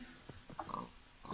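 Pigs in Minecraft oinking and snorting, a few short grunts spread over a brief moment, moderately close against a faint background.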